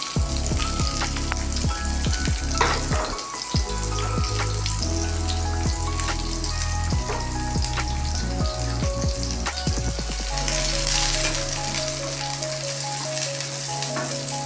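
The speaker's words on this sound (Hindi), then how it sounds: "ऑयल डाला हमने और जो ये प्याज है हमारी एक मीडियम साइज़ की, हम इसमें डालें।" A medium-size onion frying in hot oil, a loud steady crackling sizzle with scattered sharp pops and spatters close by, continuous throughout.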